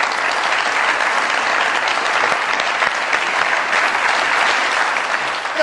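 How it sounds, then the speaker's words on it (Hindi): Studio audience on the comedy show Mazaaq Raat applauding to welcome a guest, a steady, loud and dense clapping that fills the whole stretch without talk. "बहुत सारी तालियों में वेलकम कीजिएगा सुंबुल शाहिद साहिबा की।"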